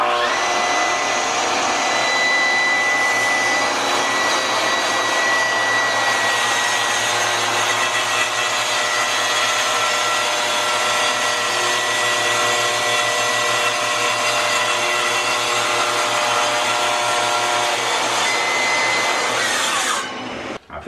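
A power saw cuts through a melamine cabinet door in one long, steady pass, a loud, continuous whining roar that holds for about twenty seconds before cutting off abruptly.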